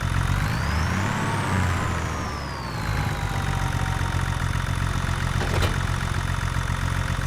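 Steady tractor engine idling in Farming Simulator 25, a loud constant low drone with a whining tone that rises and falls, and one sharp click partway through.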